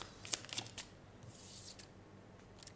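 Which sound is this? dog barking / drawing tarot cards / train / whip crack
drawing tarot cards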